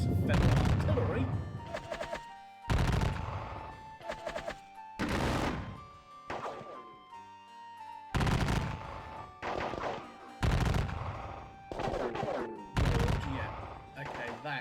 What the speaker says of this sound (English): Just getting blasted in the face by lots of Federal artillery.